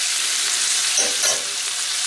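Onions frying slowly in a pan over gentle heat, giving a steady, soft broadband sizzle throughout with a couple of brief louder crackles as the food shifts.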